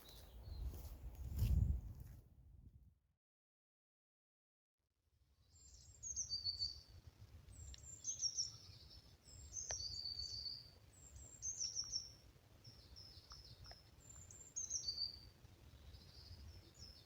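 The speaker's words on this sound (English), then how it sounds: "Those of an ornithological nature may well be able to detect one of the most melodic bird songs that we have here in the UK" Melodic songbird phrases ring out repeatedly from a bird outdoors in the UK, clear whistled notes in a regular rhythm over faint rustling and insect hum, after a brief silent gap.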